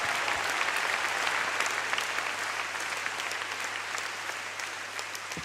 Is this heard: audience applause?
yes